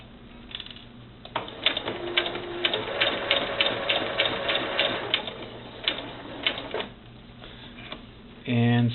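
A sewing machine stitches a quarter-inch seam along a cloth doll arm, running in a fast mechanical chatter of rapid needle ticks, close up, pausing briefly before a short louder hum at the end.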